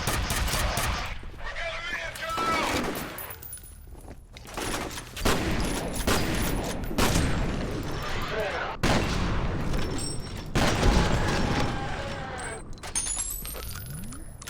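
Bursts of heavy, rapid weapon fire from a gun shooting bolts in F.E.A.R., loud and close, arriving in separate volleys broken by short pauses and mechanical clatter, with speech running underneath.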